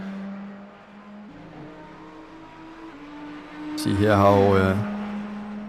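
A BMW race car accelerates hard at Zandvoort in an IMSA series racing game, its engine note climbing sharply in a brief loud burst over a low steady engine hum, with a commentator talking.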